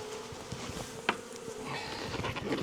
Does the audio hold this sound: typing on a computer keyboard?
no